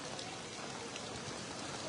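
Heavy monsoon rain pours down in Losal as floodwater rises knee-deep through streets and shops, making a dense, even hiss that is steady and fairly faint, with no voices.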